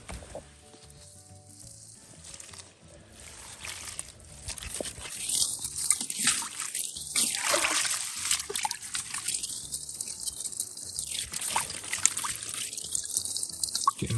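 Fig tree roots dunked and swished around in a tub of water while repotting, making continuous splashing, sloshing and trickling that builds and stays busy and close for several seconds.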